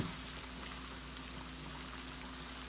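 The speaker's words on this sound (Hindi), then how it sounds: "चीनी ऐड कर रहे हैं।" Sugar tips into a pot of ghee-coated rice for sweet zarda, giving a steady, soft sizzling and pouring hiss that holds evenly throughout at a low, close level.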